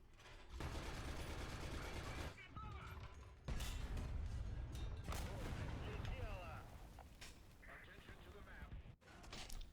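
Gunfire in the War Thunder tank game, dense bursts of shots and booms, with loud cannon blasts near the middle and the sound continuing through most of the stretch.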